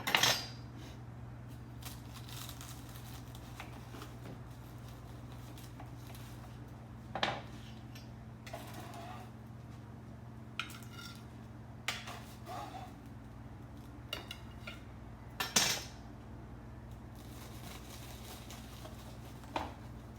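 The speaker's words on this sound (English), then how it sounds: "This is cutting so nicely, you guys." A knife works through apple strudel in a baking pan, giving sparse clinks and scrapes of the blade against the metal pan over a low steady background hum, with long quiet stretches between the sharper taps.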